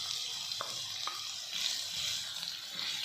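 Carrots and bell pepper sauté in a pan with a steady sizzle, and a few clicks and scrapes of stirring come through. No one speaks.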